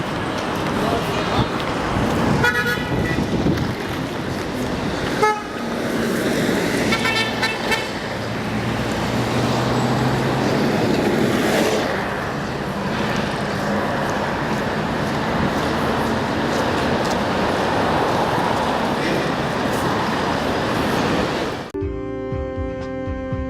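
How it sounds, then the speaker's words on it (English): Busy main street in Egypt, dense car traffic roaring steadily with repeated car horn toots throughout, loud and close, with voices mixed into the din. "The main street, loud and full of life."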